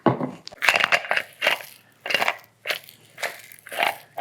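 Loose debris rattles and crunches inside a Viltrox EF-M2 speedbooster lens adapter as it is shaken, coming in repeated close bursts of gritty clatter with short pauses between them.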